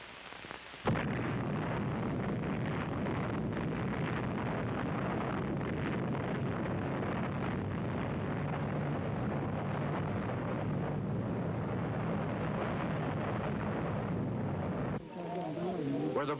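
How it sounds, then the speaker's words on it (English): A French nuclear weapon test explosion at a Sahara-region test site rolls out as a loud, sustained roaring rumble that holds steady for about fourteen seconds, then cuts off abruptly. "the French set off their first national nuclear weapon nearby"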